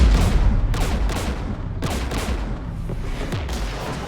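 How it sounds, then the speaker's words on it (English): Gunfire in Mass Effect 3 crackles in repeated sharp bursts over a loud, rumbling battle background, several shots spaced through the scene. "We're taking fire."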